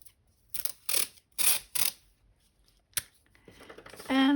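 Masking tape handled during a watercolor sketchbook session: several quick ripping tears in a row, then a couple of isolated crinkles, quiet and close, with a short hum of a voice at the end.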